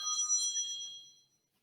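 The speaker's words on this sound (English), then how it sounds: "got a phone call coming in" A phone rings with a bright, electronic ringtone, loud and alone, fading away after about a second.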